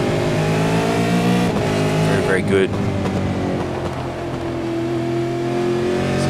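V8 race cars at full throttle on the Okayama circuit, a loud sustained engine drone with shifting pitch as cars run close together, under continuous commentary.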